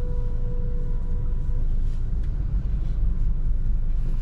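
Busy road traffic near a port, many vehicles rolling past in a continuous heavy low rumble of engines, with a brief faint tonal whine early on and no talking.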